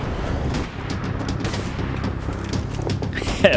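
Gunfire from the golden gun in Max Payne 3: rapid, rattling shots and booms crackle continuously in a busy, dense firefight, fairly loud throughout with a sharp burst at the end.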